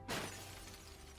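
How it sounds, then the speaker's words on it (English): A shattering crash from the fishing horror game Dredge as a face breaks apart: one sudden bright burst of breaking, then a long ringing, hissing decay that fades slowly. "His face shatters and falls to the ground"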